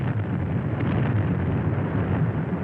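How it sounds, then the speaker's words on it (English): Shells fired from bomb vessels burst over a town, heard as a dense, continuous low rumble of distant bombardment with no clearly separate blasts and steady loudness throughout. "The bomb vessels threw shells into the town."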